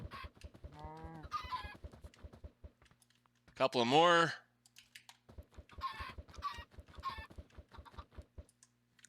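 Minecraft chickens cluck in short bursts and one louder squawk, mixed with rapid keyboard tapping and a few quiet spoken words.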